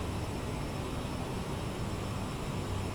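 Aerosoft CRJ jet airliner engines at cruise around 35,000 feet in MSFS2020, a steady, even broadband roar with no variation and no voices.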